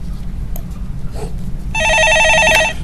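An electronic telephone ringtone chirps in a rapid warbling pattern for about a second, loud over a steady low background hum in a Korean stock-market call-in broadcast studio.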